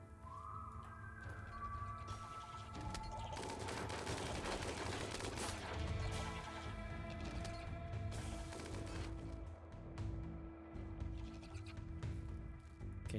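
Gunfire in the video game Rimworld, a rapid clattering burst of shots and sharp impacts, louder in the middle and thinning toward the end, with no voices.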